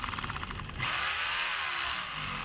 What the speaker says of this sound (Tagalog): Testing natin yung hammer mga kabay.